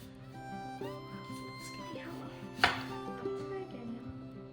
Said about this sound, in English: So do you ever use a knife? You want to slice this?